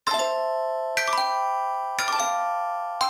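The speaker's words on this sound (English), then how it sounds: "shall we play a chime and then get into it?" A podcast chime rings out as four bright, bell-like tones, struck about a second apart. Each tone rings with a shimmering decay, and there is no talk.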